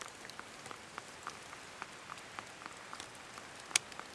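Rain falling in the mountains, a steady soft patter with scattered drop hits on a surface and one sharper close splash near the end, no voices.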